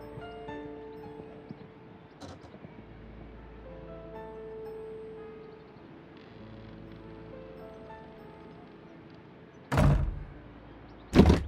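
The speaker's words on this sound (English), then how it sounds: "The door is now blocked." A door in the Sherlock Holmes: Crimes & Punishments video game bangs shut twice near the end, sharp loud thuds after a quiet stretch of low ambient game sound and music.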